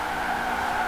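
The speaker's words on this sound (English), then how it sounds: "Neato drift." In Forza Horizon 4 racing, a car drifts with a continuous, high tire squeal under engine noise, loud and steady for under a second.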